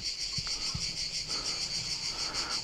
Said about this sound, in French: je pense que vous entendez le bruit des cigales